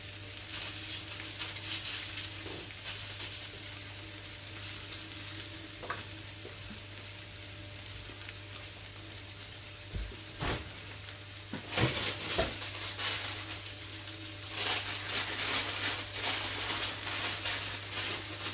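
Spring onions sizzle in hot oil in a home kitchen, a steady soft frying hiss with a low hum beneath, swelling louder near the end with a few clinks of a utensil.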